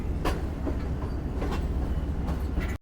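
The Shalimar Express passenger train curves onto another track toward the main platform at Khanewal Junction, a loud, continuous rumble from inside the carriage with periodic clattering wheel clicks over rail joints.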